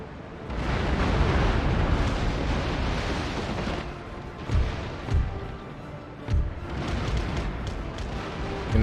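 Naval cannon broadsides from ships in Empire: Total War, a dense continuous roar of overlapping booms with several heavier thuds standing out toward the end.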